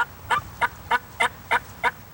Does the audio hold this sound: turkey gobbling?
yes